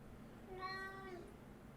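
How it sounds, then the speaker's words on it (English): A single house cat gives one soft, drawn-out meow, faint and slightly distant against a quiet room. "You don't need to meow at me."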